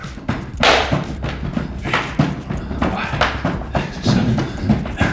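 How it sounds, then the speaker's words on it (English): Repeated thudding slaps of hands on knees during jumping slaps in a cardio workout, a steady fast rhythm of close, loud impacts with occasional voice in the background. "Final one, jumping slaps."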